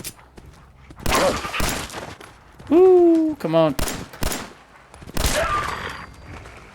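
Bursts of rapid gunfire in the video game Fallout 4, several separate volleys of shots broken by short gaps, with a player's voice calling out between them.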